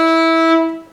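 A fiddle slides with the first finger up to E on the D string in an old-time tune, one sustained bowed note rich in harmonics that fades out near the end.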